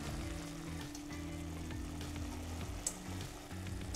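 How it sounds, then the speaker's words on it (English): Soaked, chopped wild mushrooms frying in a pan previously used for button mushrooms, a steady soft sizzle that runs throughout with a faint scrape near the end. "with my pan that was used for my button mushrooms, I'm also gonna use again for our soaked and chopped wild mushrooms"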